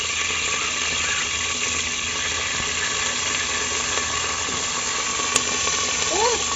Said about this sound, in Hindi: तो जी अब जो है मैंने सब्ज़ मिर्च डाल दिया घी में